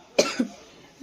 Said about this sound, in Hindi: मुझे खांसी हो रही है उसके बाद